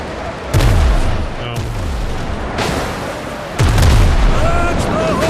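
Naval cannons in the Windrose video game sea battle boom several times, heavy blasts with falling low rumbles over a constant wash of sea and battle noise.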